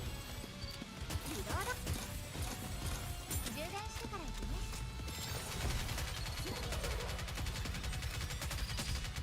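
Snow White's cover gun firing in a video game, rapid volleys of shots over busy game music and effects, steady and fairly loud, with a person talking over it.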